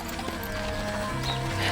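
Young filly bred at a stud farm, moving and snorting close by, with faint hoof sounds and a light whinny-like tone over steady outdoor background noise.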